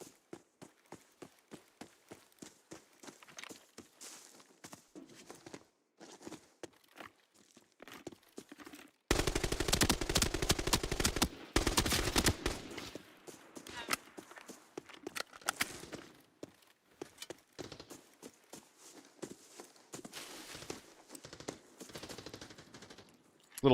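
Video game gunfire from a solo shooter match: scattered shots and short bursts throughout, swelling into a loud, rapid volley of sustained fire in the middle before dropping back to intermittent shots.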